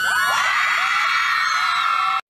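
Loud, continuous high-pitched screaming and whooping from a crowd of fans at VidCon, sustained for about two seconds before cutting off abruptly into silence.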